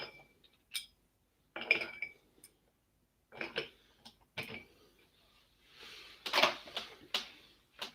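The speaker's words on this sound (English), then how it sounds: "These ice cubes are cracking as I unhandle them." Ice cubes crack and clink sharply as a hand handles them, a sparse, irregular run of close, crisp clicks with short silent gaps and no talking.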